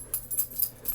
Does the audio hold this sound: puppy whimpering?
yes